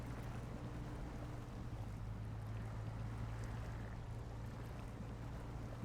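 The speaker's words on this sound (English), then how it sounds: "Let's put it into low gear to have a bit more torque." A truck in low gear pushes through water in Snowrunner, a continuous low engine drone blended with sloshing wash, steady and fairly quiet throughout.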